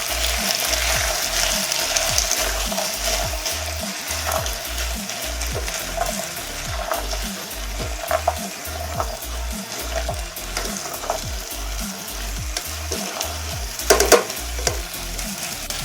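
Potatoes and carrots frying in a pot are stirred with steady scraping strokes over a continuous close sizzle, rhythmic and unbroken, with no talk.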